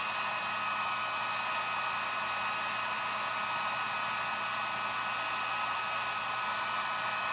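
A hair dryer blows steadily on glued-down lace for a rustic patriotic star craft, a constant broadband whoosh that stays loud and unbroken throughout with no voices.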